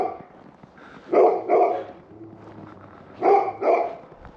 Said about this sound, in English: I'm gonna have to walk a bit further down the road before we can get away from the dog noises.